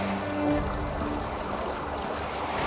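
Water flowing in a mountain stream, a steady broadband rush that holds even from start to finish with no talk over it.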